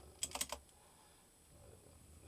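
Short burst of typing on a computer keyboard, a quick cluster of close key clicks that gives way to quiet room tone while a room name is entered in drafting software.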